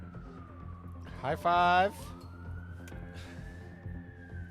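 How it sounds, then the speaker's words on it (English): A siren wails in a video game played on a Steam Deck, a steady rising electronic tone heard under game sound and a brief loud burst of voices, moderately faint, with a person speaking briefly. "That siren's getting closer."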